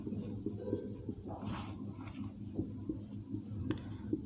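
Marker or chalk strokes on a classroom board during a physics lesson, a series of short scratchy strokes and taps at a moderate level beneath a teacher's voice.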